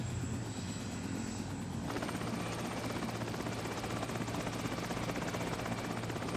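A helicopter's rotor spins steadily, a loud continuous chopping drone with an engine whine that thickens partway through, heard close and alone without speech.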